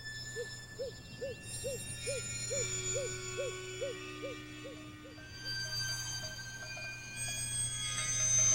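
A great gray owl hooting in northern Arctic woodland, a long even series of soft, deep hoots repeated rhythmically at mid distance over faint background hiss.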